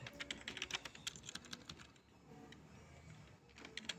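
Quick, uneven clicks of a computer keyboard being typed on during a coding session, with close, crisp keystrokes that come in bursts, pause briefly and then pick up again.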